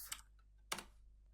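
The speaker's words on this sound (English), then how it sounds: "Next, we're going to do some manual typing." Manual typing on a computer keyboard: two quiet, separate key clicks about half a second apart in an otherwise still room.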